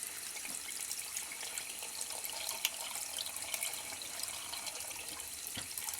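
Cold tap water runs while Royal Marine issue arctic wool socks are washed by hand in a sink, a soft steady splashing stream with occasional small knocks, fairly quiet and without voices.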